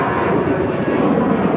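A fixed-wing airplane droning steadily overhead, a loud broadband engine roar holding constant through the short moment with no talk.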